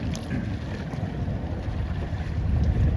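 Northwest wind blowing over North Mission Bay while sailing an ILCA dinghy at a junior regatta: a steady, dense roar of wind buffeting the microphone over low water wash, constant throughout and growing slightly louder toward the end, with no voices.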